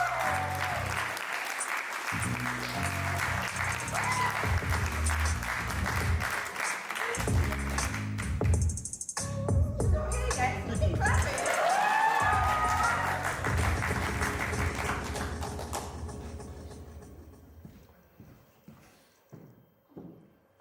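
An audience at a poetry slam in Sheffield applauds loudly and steadily as a poet comes to the stage, with some cheering, and the clapping fades away near the end.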